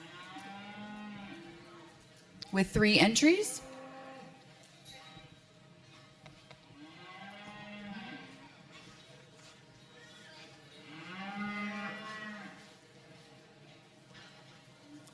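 Beef cattle, cow-calf pairs in a county fair show ring, moo repeatedly in long low calls spaced several seconds apart, with one loud close bellow early on and an announcer speaking over the sound system.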